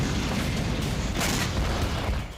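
A Hellfire AGM missile fired from a fighter jet explodes as a dense, sustained roaring blast that fills the whole clip, loud and close with no voices.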